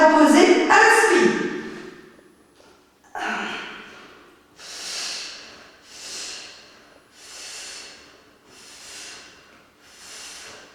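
Breathing during an advanced Pilates session, several close, audible breaths in a slow rhythm that fade to softer breaths, following a brief burst of speech at the start.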